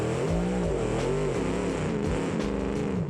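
A car engine in the BeamNG driving game, running with no radiator in second gear, revs loudly and continuously, its pitch swooping up and down through several throttle changes with no talk over it.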